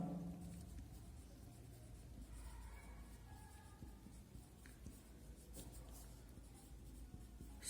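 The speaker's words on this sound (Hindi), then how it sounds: "मैं नाम लिख" Chalk or marker writing on a board during a Class 6 maths lesson, a steady faint scratching that runs for several seconds with no talk over it.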